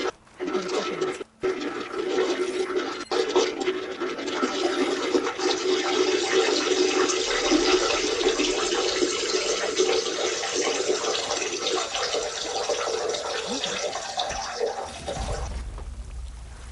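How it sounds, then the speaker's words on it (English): Water gushing and splashing steadily from a building, a broad sustained rush that holds loud for over fifteen seconds before tailing off, with no voices over it. "Water's pouring out of the building."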